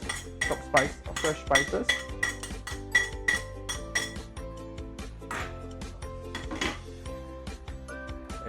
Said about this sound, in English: Okay, so let's do the mixture right now.